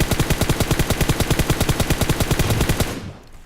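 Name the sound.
M4 rifle full-auto gunfire in PUBG Mobile video game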